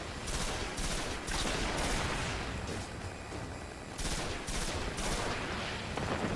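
Enemy machine guns in the Destiny video game fire in several sustained bursts, loud and dense with short pauses between volleys, over a constant background of game sounds.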